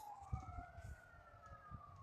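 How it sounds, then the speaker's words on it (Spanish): Ambulance sirens passing outside, a faint wailing tone gliding slowly in pitch from a distance, with low thumps and murmurs nearer by. "Hay unas ambulancias por ahí."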